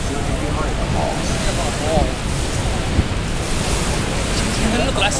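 Niagara Falls seen from a boat ride gives a constant, loud, broadband roar of rushing water mixed with buffeting wind noise on the microphone, steady throughout.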